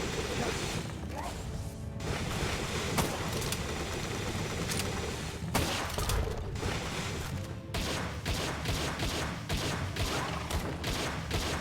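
Handgun fire in the video game Palworld: repeated sharp shots crack out at a steady pace through a busy, dense mix of other game noise and mechanical clatter.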